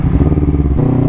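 Honda CBR 250RR motorcycle engine running close by, a loud steady throbbing growl with a slight shift in tone near the end, no voices.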